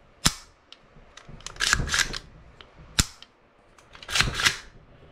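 An AR-15 rifle being function tested after cleaning: sharp metallic clacks of the action cycling and crisp trigger clicks, a handful of distinct close snaps spaced over a few seconds with handling noise between them.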